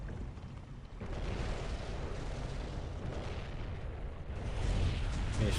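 Bombing run explosions and artillery in the Dawn of War: Ultimate Apocalypse strategy game, Imperial Guard against Tyranids, a dense rumbling barrage of blasts that swells louder toward the end, no speech.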